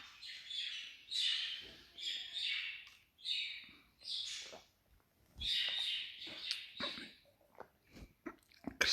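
Birds sing in a series of bright, warbling phrases, each about a second long, with short pauses between them and a few scattered chirps at the end, heard fairly close with no voices.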